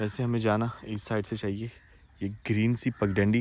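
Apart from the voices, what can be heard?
No everyday noises stand out.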